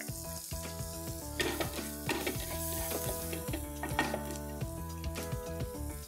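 Finely chopped garlic sizzles steadily in butter in a hot pan, under constant frying hiss with light stirring clicks and background music.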